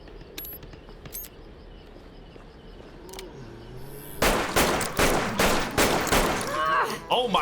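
Loud, rapid bursts of gunfire from the video game Resident Evil 6 erupt after a quieter stretch, with repeated shots in quick clusters near and sharp over a busy game background.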